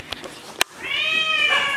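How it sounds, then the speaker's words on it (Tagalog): Pet cat Tantan meows once, a long, clear, close-up cry after a couple of sharp knocks, heard alone in a quiet room. "Asa kaya yung pusa akong maingay?"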